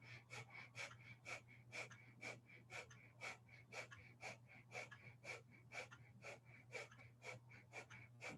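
Rapid rhythmic breathing in a Sat Nam mantra breathing exercise, quick sharp breaths repeating at an even pace of about two per second, close and steady over a low background hum.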